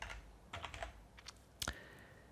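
Typing on a computer keyboard, a few scattered clusters of soft key clicks and one sharper tap near the end, close and quiet with no talk.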